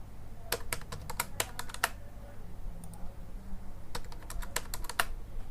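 Rapid typing on a computer keyboard, bursts of crisp keystrokes with a short pause in the middle, heard close over a low steady background hum.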